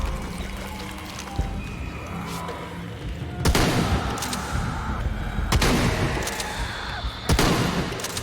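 Gunfire in the Tomb Raider video game, a few sharp, loud shots standing out over a busy, noisy game background.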